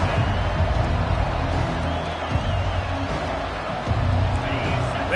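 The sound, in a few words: football stadium crowd cheering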